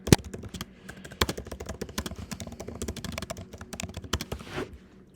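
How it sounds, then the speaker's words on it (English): Computer keyboard typing in a quiet room, a close, steady patter of light key clicks with a few sharper louder taps, alone without speech. "The tippy taps on the keyboard."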